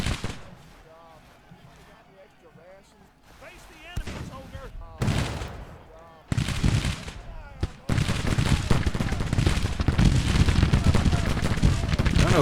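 Battlefield gunfire in Grand Tactician: The Civil War video game, with rolling musket volleys and booming shots that grow denser and louder into a continuous din, while a voice talks over the opening.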